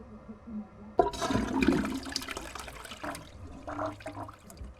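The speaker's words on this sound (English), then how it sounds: "Flush. Get rid of the evidence." A toilet flushes in a video game, starting with a sharp click of the handle and then a loud gush of water that swirls and trickles away over several seconds, with no talk.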